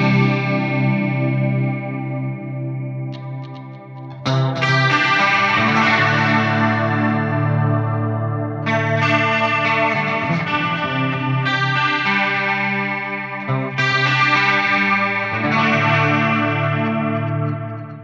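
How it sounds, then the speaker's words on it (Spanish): Electric guitar, a Parker Fly, run through effects such as distortion and chorus, blended with an acoustic guitar, playing continuously and loudly in layered chords with sustained, shimmering tones and brief breaks between phrases. "Ahora si mezclamos con la guitarra acústica"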